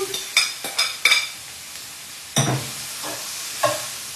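Eggplant cubes sizzling in a pan for Sicilian caponata, with a spoon scraping and clattering against the pan in several bursts over a steady frying hiss, close and clear with no talk.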